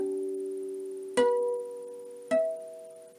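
Electric guitar harmonics produced by resting a finger lightly over a fret: two clear bell-like pings a second apart, each ringing and slowly decaying over a lingering sustained tone, played alone and fairly quiet.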